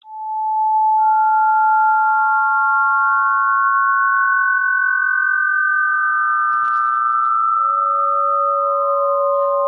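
Synthesized random-frequency sine tones in a sound class demo play loud and alone, steady overlapping pure pitches gliding between levels and shifting to new notes every second or two.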